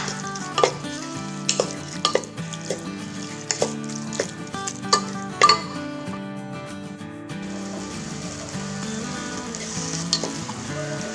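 Thinly sliced garlic and onion sizzle and fry together in a pot for a Moroccan lentil and carrot dish, a steady close crackle broken by sharp clinks of a utensil stirring against the pot, with no talking.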